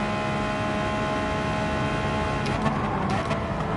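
An Enzo Ferrari engine hums steadily in a PS4 racing video game, a sustained mid-level whine with faint clicks and whirs near the end.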